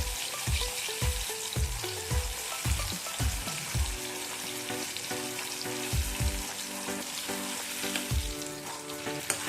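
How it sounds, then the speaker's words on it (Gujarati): Kashmiri chili chutney frying in hot oil, a loud, steady close sizzle with crackling bubbles throughout, and a run of rhythmic spoon or spatula knocks against the pan in the first few seconds, no talking. "આ ચટણીને આપણે ફ્રાય કરીશું।"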